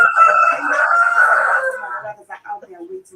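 A rooster crows once, a loud and near drawn-out call that trails off, followed by faint scattered noises.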